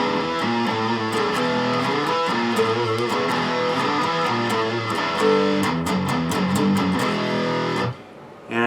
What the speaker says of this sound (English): So you can hear that open E string that's palm muted.